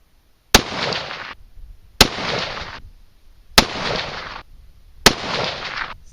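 Four sharp rifle shots fired with 47.2-grain CFE223 powder loads crack out at regular intervals, each a loud, close report followed by a decaying echo roughly a second long.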